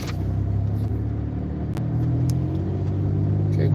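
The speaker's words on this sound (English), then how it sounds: "we gradually accelerate" A car gradually accelerating from a stop at a light, its engine rumble steady and close from inside the cabin, rising slightly in level toward the end with no talking.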